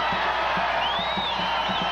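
A partisan home crowd at a Boise State women's basketball game cheers and whoops in a loud, continuous roar, with rhythmic thumps and a few shrill whistles rising over the noise.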